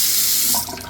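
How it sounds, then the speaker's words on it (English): Water running from a bathroom sink tap, a short steady splashing stream close by that thins slightly at the end. "little bathroom, running water and everything"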